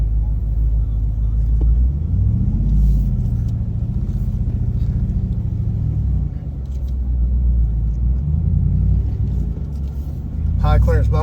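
A Power Wagon truck rolls down a sandy drop-off, its engine rumbling steadily and close for the whole stretch, with a brief scraping burst near the end.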